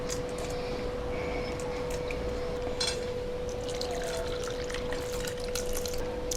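Tamarind water pours into a kara kuzhambu as a steady liquid rush with a constant hum underneath and scattered splashy clicks, close and continuous.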